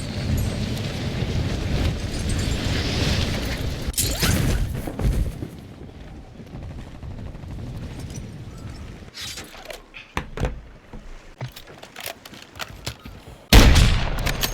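Gunfire in the shooter game AlphaBot: a dense, loud barrage of shots for the first few seconds, then sparser scattered bursts and thuds, ending with a sharp loud blast near the end.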